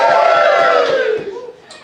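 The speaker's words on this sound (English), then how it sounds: "Give me a cheer for that." A comedy club audience cheers and whoops in a loud, dense burst that gradually fades away over a couple of seconds.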